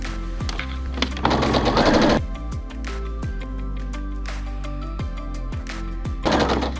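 A sewing machine topstitches a fabric cushion in a loud, rapid, continuous mechanical chatter that pauses briefly and then runs on steadily, with no voices.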